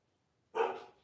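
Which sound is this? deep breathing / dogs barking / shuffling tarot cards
dogs barking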